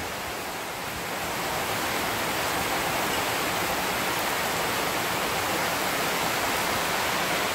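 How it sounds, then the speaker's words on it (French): A torrential rainy-season downpour in Tahiti roars as a dense, steady wash of falling water, building slightly in the first second and then holding loud and unbroken. "Des trompes d'eau."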